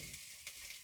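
Laccha paratha browning in oil in an omelette pan sizzles and hisses quietly and steadily at close range, with no voices.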